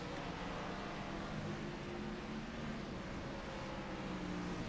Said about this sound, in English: A lot of cars heading through the bus stop right now.